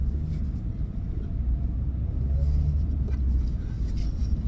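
A car cruises along a highway, producing a steady low road rumble and engine drone heard from inside the cabin, constant and moderately loud with no break.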